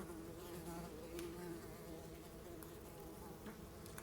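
Flies buzzing in a toilet bowl as the seat lifts in the horror game Scarlet Hollow, a steady close droning hum with no talking.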